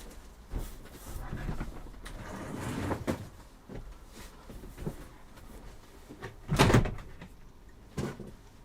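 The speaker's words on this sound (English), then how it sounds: "we've got to close the door now" A door swings and shuts during a live electronics repair session indoors, with rustling and scraping building to one loud thud near the end, followed by a softer knock.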